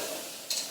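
Corn fritter batter sizzles quietly in a pan just after flipping, a faint even hiss broken by one short sharp crackle partway through.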